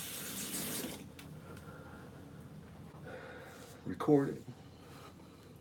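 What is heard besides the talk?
water rinsing off hands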